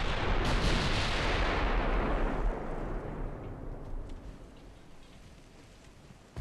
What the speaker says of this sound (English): 4-inch, and she's still firing at us.